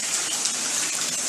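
Bathtub tap running full in a Calabasas home, a loud steady gush of water pouring into the tub, continuous and close with no pauses.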